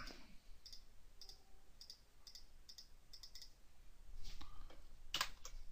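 Computer keyboard keys tapped in a quick series of light, close clicks, with a louder cluster of keystrokes near the end, no voices.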